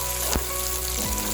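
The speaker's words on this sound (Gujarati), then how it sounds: "તેલ આવી જાય એટલે આ ડુંગળી નાખી દેવાની." Onions fry in hot oil in a kadai with a dense, steady sizzle that stays loud and close throughout, broken only by a couple of faint knocks, and no one speaks.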